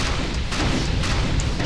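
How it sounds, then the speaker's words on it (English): Mass cannon explosions in the video game Defiance, a continuous heavy rumble of overlapping booms with a few sharper impacts rising out of it, loud and without voices. "the secondary explosions of the mass cannon will do damage"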